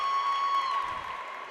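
Junior high basketball crowd at a state championship game, ACA fans versus Banff, applauding and cheering in a sustained wash of clapping in a gym, a high whistle-like tone riding over it before it gradually eases.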